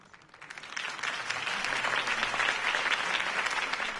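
Crowd applause in Batman: The Telltale Series video game swells in from quiet and holds as a steady, dense roar of clapping, fairly loud and distant-sounding.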